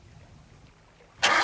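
A boat engine bursts into life after a quiet pause, a sudden loud, steady roar that holds to the end.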